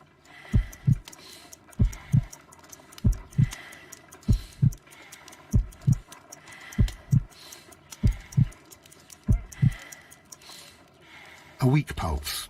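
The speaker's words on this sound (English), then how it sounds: "I need to concentrate and count the heartbeats." A slow, weak heartbeat pulse in the Sherlock Holmes Crimes and Punishments video game, about 50 beats per minute: steady paired low thumps repeating evenly and close, with a faint hum underneath.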